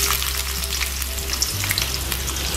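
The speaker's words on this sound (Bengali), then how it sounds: "এখন আমি পেঁয়াজ কুচি দিয়ে দিচ্ছি।" Chopped onions sizzle loudly in hot oil with whole spices for a mutton curry, a dense continuous frying hiss with light stirring and no talk.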